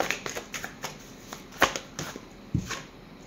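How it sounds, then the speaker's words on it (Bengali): Tarot cards shuffled and drawn by hand: a close, steady run of papery riffles and soft slaps, with a few sharper snaps as cards are pulled, and no voice. "আরেকটা কার্ড নিই।"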